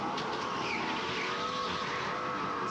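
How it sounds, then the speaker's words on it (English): Race car in a racing video game powering through a corner, a continuous loud engine whine layered with scratchy tire skidding, steady and close throughout. "that sound of the axle accelerating also seems to be indication of kind of hitting that corner well"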